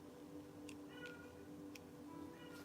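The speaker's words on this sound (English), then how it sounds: "the cat goes nuts every time I start trying to do readings" A cat meows several times indoors, its short tonal cries faint and fairly close over a steady low background hum.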